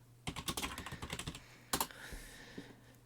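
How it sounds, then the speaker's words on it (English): Quick bursts of typing on a computer keyboard, close-up clatter of keys in two short runs separated by a pause, with a few scattered taps trailing off at the end; no voices. "Okay, so when I type that in,"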